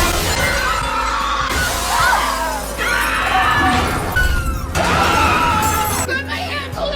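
Glass shatters and crashes in a disaster scene as a banquet hall's glass frame gives way, a loud, dense, sustained breaking-and-debris roar with repeated surges, faint voices mixed beneath.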